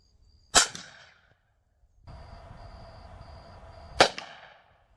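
Two loud, sharp .45 Colt revolver shots fired into wood boards, spaced a few seconds apart, each with a short ringing decay, with a faint humming tone between them.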